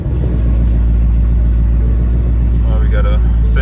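A Ford Mustang GT engine running on E-85, settling into a loud, steady, low rumbling idle close by, with a voice speaking briefly near the end.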